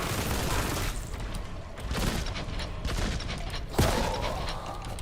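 Rapid gunfire from a Kraken magazine weapon in a Warhammer 40K boomer shooter, a dense continuous rattle of shots with a sharp louder blast near the end.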